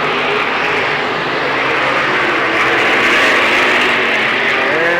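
Late model stock cars, including a Ford Thunderbird, roaring around the dirt oval at Lernerville Speedway in Sarver, PA, a steady loud blend of engines that swells slightly as the pack passes down the backstretch.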